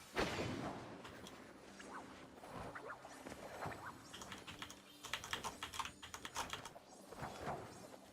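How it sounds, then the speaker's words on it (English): Computer mouse and keyboard clicks while playing Palia, a run of quick, close, crisp clicks and taps in irregular bursts at low level with no talking. "Who knew that mouse clicking would be so satisfying"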